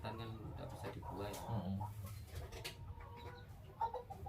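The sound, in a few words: chickens clucking in a coop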